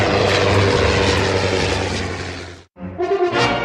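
Polikarpov U-2 (Po-2) propeller biplane engine droning loud and steady for over two seconds, then cutting out abruptly before a rougher, fluttering engine sound resumes, with no talk.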